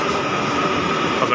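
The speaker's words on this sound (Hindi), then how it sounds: "तो मेट्रो आ गई" Delhi Metro train arriving at a station heading for Mandi House, a loud, steady rumbling roar filling the whole stretch close by, with a voice speaking over it.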